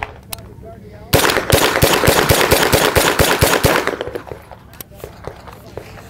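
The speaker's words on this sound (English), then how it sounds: "That's the CMMG Guard in 9mm, and I'm ready to shoot it." A CMMG Guard 9mm carbine fires a fast string of roughly a dozen sharp, loud shots in steady rhythm, close by, followed by quieter clicks and background chatter at an indoor show range.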